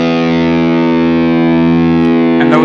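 Electric guitar holds a standard E note as one steady, loud, distorted tone with rich harmonics, ringing alone for nearly three seconds before a short pick scrape at the end.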